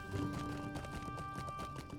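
Horse hooves clip-clop in a video game, a steady, fairly loud trot of quick hoofbeats over a droning tonal background.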